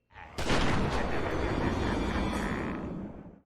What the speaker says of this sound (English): Joker does what he's always wanted to do and pulls a gun out to shoot Batman dead.